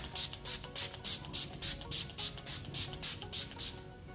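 Makeup setting spray pumped from a spray applicator, a rhythmic run of about fourteen short, close hissing bursts at an even quick pace, with no talking.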